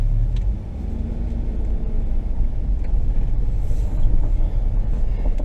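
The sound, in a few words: ATV engine starting and running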